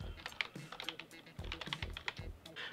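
Computer keyboard keys clatter in an irregular run of close, crisp taps with brief pauses, like someone typing out a line of text, quiet overall.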